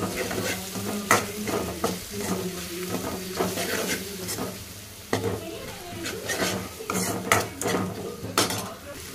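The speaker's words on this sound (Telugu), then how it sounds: "ఈ కాకరకాయ ముక్కలు అయితే ఇందులో వేసేసుకోవాలి." Bitter gourd pieces frying in a pan with onions and curry leaves, a steady sizzle broken by repeated clinks and scrapes of a metal spoon against the pan, close up.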